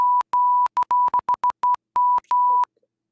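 A steady electronic bleep censor tone sounds in a string of short and long pulses, loud and clean, turning on and off irregularly with brief gaps of silence between them.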